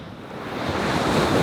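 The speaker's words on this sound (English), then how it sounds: "You can see where the waves are breaking on a shallower bank on the outside of the gutter" Surf rolling and breaking along a beach beside a fishing gutter, with waves crashing onto a shallower outer bank; a steady broad wash of water that swells louder toward the end, with some wind across the microphone.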